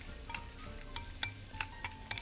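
A utensil stirring shrimp seasoning in a bowl, with soft scraping and several sharp clinks against the side. It is close but fairly quiet, over a low kitchen hum.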